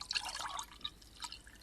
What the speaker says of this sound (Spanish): Se oían las gotas de agua cayendo en el vaso de vidrio